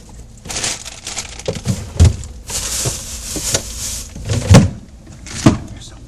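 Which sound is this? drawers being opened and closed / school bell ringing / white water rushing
drawers being opened and closed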